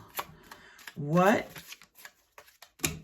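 Tarot cards being shuffled in a few short, crisp riffling bursts, close and fairly quiet, with a brief spoken word and soft vocal sounds mixed in.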